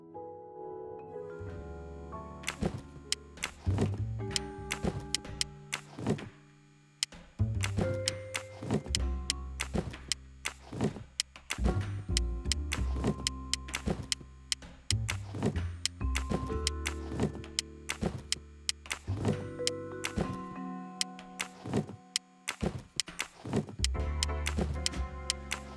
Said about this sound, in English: there is not much space to move the boxes